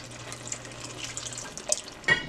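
Water runs into a glass jar that held tomato sauce, a soft splashing, trickling stream at close range, ending in a brief louder gush near the end.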